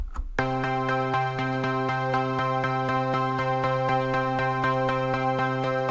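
A synth step sequencer repeats a single C note in a steady, even pulse, bright and sustained, with no voices.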